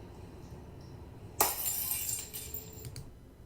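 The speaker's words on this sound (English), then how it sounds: "I threw it, it fell, it shattered into pieces." A thrown glass ornament hits the ground outdoors and shatters with a sudden bright crash, followed by a second or so of tinkling fragments settling, after a quiet lead-in with no talking.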